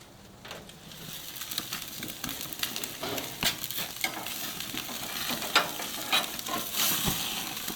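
Ribeye cap steaks and onions sizzle on a hot grill, a continuous crackling hiss with scattered sharp pops and spits, fairly close and steady throughout.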